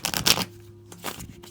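Tarot cards being shuffled by hand in two brisk riffling bursts, a longer one at the start and a shorter one after a brief pause, close and fairly quiet.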